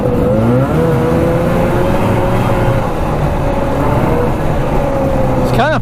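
A vintage 50-year-old Raider 34TT twin-track snowmobile engine drones continuously up close as the sled rides along a wooded trail, with a rising whine at the very end.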